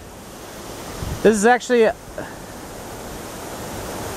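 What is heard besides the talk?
Maury River water flowing over a small dam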